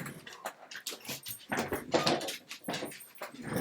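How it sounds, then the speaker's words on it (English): Dog hiding under a table reacting to something outside, giving uneven bursts of whimpers and sharp barks mixed with knocking and rustling nearby, with no speech. "my dog was under my table and he decided there's something horrible outside"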